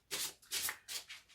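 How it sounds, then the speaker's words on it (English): Tarot cards are shuffled in three quick, soft riffling bursts with short pauses between, close and quiet, with no talking. "I'm going to shuffle them again whilst I focus on your energy"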